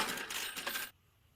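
Cash register effect: a dense burst of metallic clinks and rattling coins lasting under a second, then cutting off abruptly to near silence.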